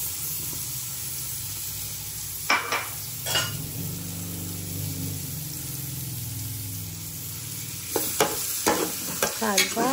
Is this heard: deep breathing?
no